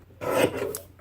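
A piece of paper being trimmed horizontally for a scrapbook page kit: one short, close rasping scrape lasting under a second, alone.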